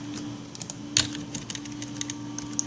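Quick keystrokes on a computer keyboard as a command is typed for rooting an LG K10 phone, a short run of light clicks close by over a steady low hum, with no talking.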